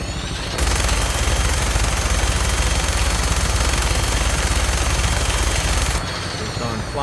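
Sustained minigun fire from a vertibird in Fallout 4, a dense continuous rattle of rapid shots that starts abruptly, runs loud and unbroken for about five seconds, then cuts off.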